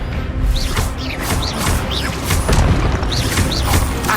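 Expelliarmus spells cast repeatedly in the Hogwarts Legacy game: loud, close bursts of magic, each a rising whoosh with a bright chirp and a booming impact, coming in quick succession over a rumbling background.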